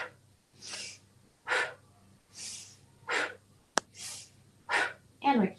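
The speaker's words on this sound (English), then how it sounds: "Again, breathing out when the leg goes closer" Soft exhaled breaths during gentle leg swings in a splits flexibility flow, coming in a steady rhythm of about six puffs, close and fairly quiet, with faint music underneath.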